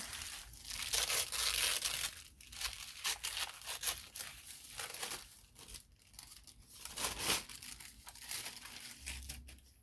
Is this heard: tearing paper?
yes